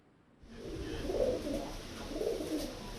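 Homing pigeons used for Pigeon Post message carrying in India coo in low, soft, rolling phrases, two swells of cooing, close by over a steady background hiss.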